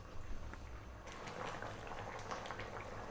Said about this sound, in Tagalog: So, ayan, uli natin siyang kumulo.